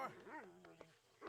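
A dog in the Red Dead Redemption 2 video game whimpers while being petted, giving a couple of short, rising and falling whines with a faint click between, quiet and close.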